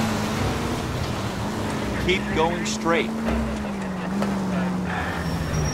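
A car engine in L.A. Noire holds a steady rev under a voice giving directions. A rising pitch sweep suggests revving and wheelspin as the engine drones on throughout, with some wind-like noise.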